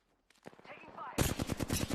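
Rapid automatic gunfire in a battle royale shooter video game, sporadic shots building into a loud sustained burst, with a short spoken voice line mixed in near the start.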